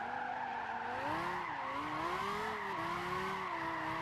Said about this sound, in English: This is proper drifting right here.